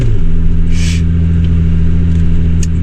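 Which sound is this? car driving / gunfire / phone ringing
car driving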